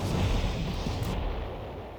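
A fire explosion spell from a Pyromancer build in Ultima Online goes off as one loud, booming burst. A dense low rumble trails away over about two seconds, with no voices.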